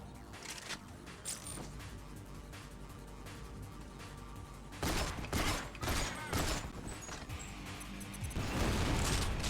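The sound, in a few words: grenade explosion in GoldenEye: Rogue Agent video game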